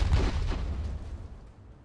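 Missile and artillery fire in a real-time strategy video game: a single deep boom at the start, followed by a rumbling decay that fades over about two seconds.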